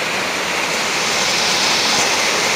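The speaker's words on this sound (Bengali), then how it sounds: "জল আসছে" Water pours over a small dam at a resort in Bankura, a dense, steady rushing roar that stays close and loud with no pauses and no voices.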